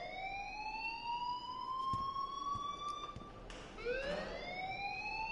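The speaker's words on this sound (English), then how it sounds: "please turn off that alarm since that's your job" A fire alarm wails in the video game Life is Strange, a steady siren tone that drifts slowly, cuts off, then swoops back up in a second rising sweep over a low background hum.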